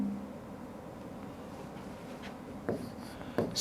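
Chalk or a marker writes on a board in a classroom during a math lesson, mostly as a faint steady scratching under a low room hum. Two sharper strokes come near the end, and no one speaks.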